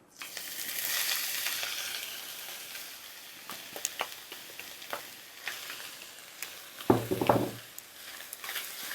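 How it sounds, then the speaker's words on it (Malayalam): Oyster mushrooms fry in ghee with caramelised sugar, giving a steady hiss and sizzle. A spoon stirs and scrapes the pan with scattered light clicks and taps, and one louder scrape comes near the end. "അത് കൂണ് നെയ്യിൽ കിടന്ന് നല്ലതായിട്ട് മൂത്ത് വരണം."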